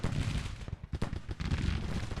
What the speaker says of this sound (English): these guys are now suffering under the withering fire of our rifled muskets